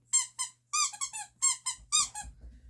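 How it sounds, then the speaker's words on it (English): A dog's squeaky toy is squeezed repeatedly, giving a series of sharp, high, close squeaks in uneven bursts, followed by faint low rustling near the end. "they both go absolutely potty for squeaky toys"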